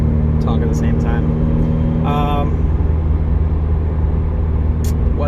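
A 2016 Subaru WRX cruises along with a steady low engine drone and road noise throughout, while someone talks over it.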